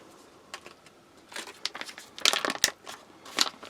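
Tear strip being ripped open on a British military ration pack (ORP), giving crinkly, crackling packaging tears in several short bursts, strongest near the end, fairly close and fairly quiet.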